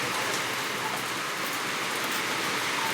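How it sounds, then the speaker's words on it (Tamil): Heavy rain pours down in a dense, steady hiss with no letup, loud and close throughout. "செம்ம மழை."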